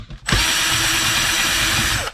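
A power drill spins continuously for about two seconds while backing screws out of an air fryer casing being scrapped, a loud steady whine that starts abruptly and cuts off at the end, with no talking.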